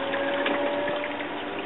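An aquarium's backup air pump bubbles oxygen into the water of a 240-gallon display tank, giving a steady, close, continuous gurgling hum with no pauses and no one speaking.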